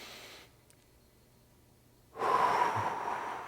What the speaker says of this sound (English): nice deep breathing as you go through